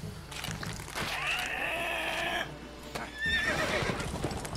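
A horse in the video game The Witcher 3 gives a loud drawn-out whinny, then after a short pause a second shriller neigh with snorting and hoof clatter, close and alone.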